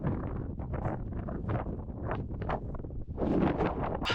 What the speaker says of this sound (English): Yeah, the wind's really hectic this weekend.